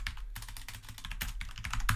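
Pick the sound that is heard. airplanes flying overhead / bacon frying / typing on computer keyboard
typing on computer keyboard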